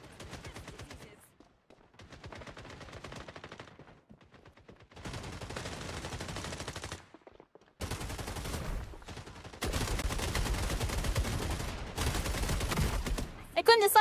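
Gunfire in Rainbow Six Siege X, coming as bursts of rapid automatic shots in several clusters separated by short gaps, loud and close, with heavier sustained volleys near the end.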